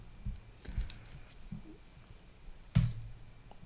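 Computer keyboard keys tapped in a few scattered clicks, with one louder knock near the end, quiet and close with no talking.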